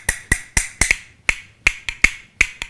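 A pair of walnut musical bones clacks out a quick, uneven rhythm of about a dozen sharp, bright clicks, close and clear.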